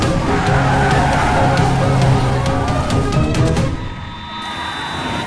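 Police vehicles roar in and skid on a live stage show, with loud, close engine noise and a short squealing skid before the sound drops and fades.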